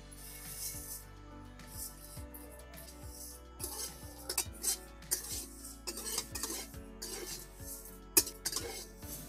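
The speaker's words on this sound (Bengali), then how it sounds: "চলুন কাঁচা সিমুইটা ভাজা করে নিই।" Raw vermicelli is fried in a pan and stirred, giving a soft sizzle under repeated metallic scrapes and clinks of a utensil against the pan, close by, with no talking.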